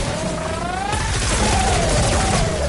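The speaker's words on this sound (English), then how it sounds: "Look how fast these bullets get sprayed into them." Rapid automatic gunfire in Fortnite Save the World sprays bullets in a dense, continuous barrage of loud cracks and booms layered with game effects, with no gaps between shots.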